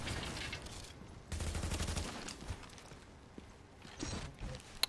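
Rapid automatic turret gunfire in The Division 2, a dense loud burst of shots rattling for several seconds with quieter bursts and clatter following, no talking.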